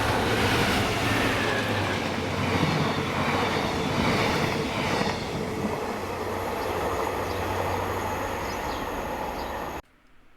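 Caledonian Sleeper passenger train hauled by locomotive 66791 passing at Monifeith, a loud steady rumble with rattling wheels and clattering carriages for about ten seconds before it cuts off.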